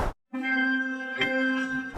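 A single sustained sampled organ note pitched from G to C, steady and clear after a brief silence, with a small tick near the middle, ringing for over a second.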